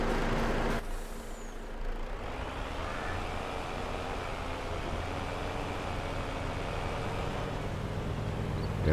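A truck in Farming Simulator 22 releases a sharp hiss of its air brakes, then its engine rumbles steadily and loudly with no break, close by and alone.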